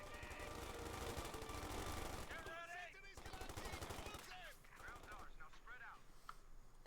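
Machine gun fire rattles in Company of Heroes 2 in rapid repeated bursts of close, dense gunfire, with a voice commentating over the battle.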